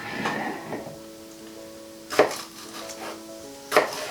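Two sharp knife strikes cut through red peppers on a board, spaced more than a second apart, close and fairly loud over a quiet kitchen background.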